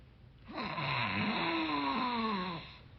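A man imitates snoring with his voice, one long drawn-out rasping snore swelling and fading over a few seconds, close and fairly quiet.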